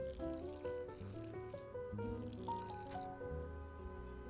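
Chicken broth pours into a container with a gurgling, trickling flow whose pitch rises as it fills, coming in two bursts up close before tapering off.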